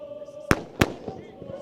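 Two sharp, loud firework bangs burst out from behind a football stand at an under-23 match between Brighton & Hove Albion and Bayern Munich, each one echoing briefly over a steady background hum, with a softer pop following.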